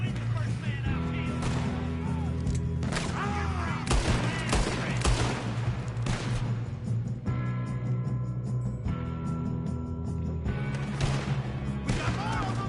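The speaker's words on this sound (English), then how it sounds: "Good shooting, kid." A shootout in Red Dead Redemption 2 brings dense, loud volleys of rifle and pistol fire that crack almost nonstop with rapid overlapping shots, while voices call out over the gunfire.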